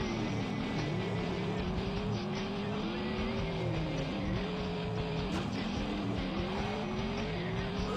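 A Ferrari engine in a racing video game, revving hard with the pitch sweeping up and down through gear changes, continuous and loud, joined by a brief skid or tire squeal with no speech.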